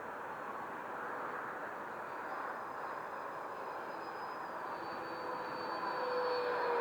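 A Freewing F-18 RC jet with a 90mm ducted fan passes overhead, giving a steady airy roar with a thin high whine that swells slightly louder toward the end.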